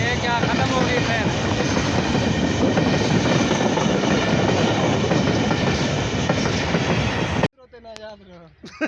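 A train rumbles past loud and close with continuous clattering wheels and a dense roar that cuts off abruptly near the end, after which a voice speaks.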